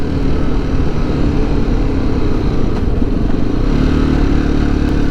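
Motorcycle engine droning steadily on a ride through Durmitor National Park, loud and close with constant wind rush, no pauses or voices.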